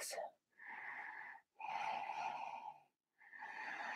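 Deep, drawn-out yoga breaths in three steady breathy pulses, each with a hollow whistling tone, separated by short pauses, close and fairly soft.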